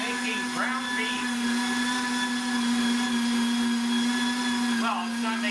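A CHEFFANO electric meat grinder grinding beef into ground steak gives off a steady, loud motor hum that holds unbroken from start to finish, with faint voices in the background.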